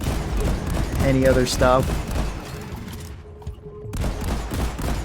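Shotgun blasts and grenade launcher fire ring out in the video game Deep Rock Galactic, a dense stretch of loud, overlapping gunfire and bursts with a short lull, heard under someone talking.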